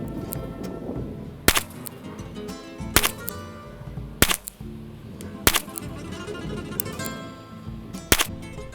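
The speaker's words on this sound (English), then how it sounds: "I'm shooting off a sandbag rest" Single shots from a Ruger revolver fitted with a .45 ACP Colt conversion cylinder, fired off a sandbag rest, six loud sharp reports spaced about every second and a half over steady background hum.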